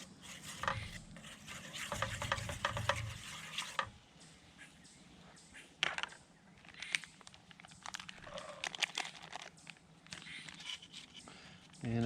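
Eggs being broken up and stirred without a spatula in a camping pan at a state park campground: a steady scraping, rubbing stir with a soft sizzle, close by, with a few louder scuffs and clinks along the way.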